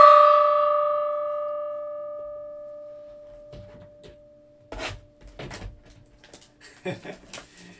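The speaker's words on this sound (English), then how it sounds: "Let's do a little gong here for that." A single gong stroke rings out loud at the start and decays slowly over a few seconds, its sustained tone fading under later rustling and handling noises.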